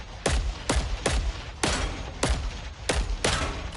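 Single-fire gunshots from a run-and-gun weapon in the video game Killing Floor 3, six loud sharp reports spaced about half a second apart with no talk over them.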